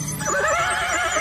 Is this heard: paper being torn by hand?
no